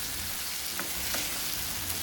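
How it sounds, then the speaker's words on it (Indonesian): A spoon stirs goat curry with tamarind water in a pot, a steady wet sizzle and bubbling throughout, with a few soft scraping strokes against the pan. "Kita aduk-aduk."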